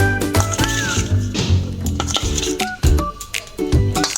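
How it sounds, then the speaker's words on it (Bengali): Paneer cubes are mixed into a marinade by hand for mini paneer satay, giving soft squishy, sticky wet sounds alongside clinks of a bowl and utensils, close up, with music behind. "পনিরগুলো আমি একসঙ্গে মাখিয়ে নেব।"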